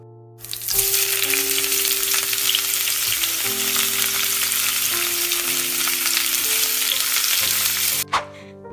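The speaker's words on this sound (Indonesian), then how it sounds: "Mama goreng Kenzler chicken nugget" Chicken nuggets sizzle steadily in hot oil in a pan, a loud, continuous frying hiss that runs nearly unbroken for several seconds before a brief clatter near the end, with no talking.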